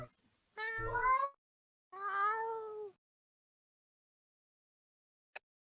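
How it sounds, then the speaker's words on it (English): A pet cat gives two clear, close meows in a row, each drawn out with a rising-falling tone, followed by quiet and one tiny click. "My cat just wants attention"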